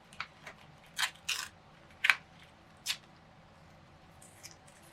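Paper torn by hand for a mixed media collage art journal page, several short crisp ripping bursts spaced irregularly, close and fairly quiet, with no talking.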